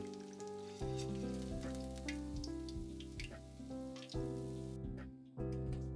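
Chicken tempura pieces fry in hot oil at high temperature, giving a continuous close sizzle and crackle under steady tonal music.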